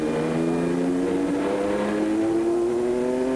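Satoru Nakajima's Formula 1 car at the 1987 British Grand Prix, heard onboard at Silverstone: a loud, continuous high-revving engine note held steady at speed, its pitch climbing smoothly with no voices over it.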